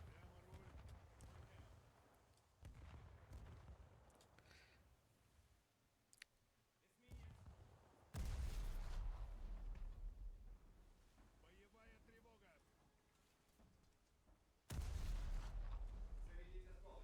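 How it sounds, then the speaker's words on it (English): A ship's guns fire shrapnel rounds in a video game, two heavy booming shots standing out loudly amid quieter clicking and background game sounds. "Wonder if these shrapnel rounds are actually good or not."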